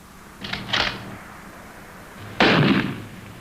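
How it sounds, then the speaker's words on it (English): Live bullets fired in a 1959 naval radio comedy: a pair of quick shots followed by a single louder, sharper crack about two seconds later, with a faint background hiss. "These are live bullets he's firing."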